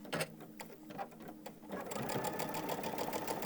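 A sewing machine stitches through thick fabric, with a few slower, heavier punches at first and then a continuous fast whirring run, close up and alone.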